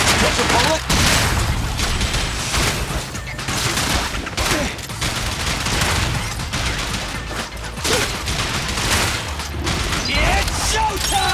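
Dense, continuous bursts of gunfire rattle through a Zenless Zone Zero battle, loud and close, with layered booms and mechanical clatter, and voices speak over the shooting at times.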